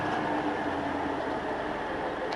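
A tour tram rolling around the Daytona track with a steady, loud mechanical rumble and hum, continuous and close, no pauses across the stretch.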